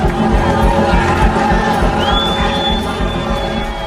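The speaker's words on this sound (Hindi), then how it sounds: "पुलिस के मैदान छोड़ने के बाद कोलाहल छा जाता है।" A protest crowd takes over the federal parliament building in Kathmandu, a loud dense uproar of shouting and cheering voices sustained throughout, with a thin whistle rising above it midway.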